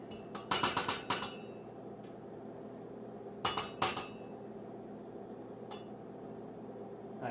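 Sauce and liquid are stirred and broken up in a pot, with quick bursts of close clinking and rattling from the utensil against the pot and quiet gaps between the bursts.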